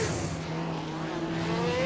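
Jim Clark's Lotus 49 race car engine under way, a steady droning engine note with a sustained pitch held throughout, close and loud, with no talk.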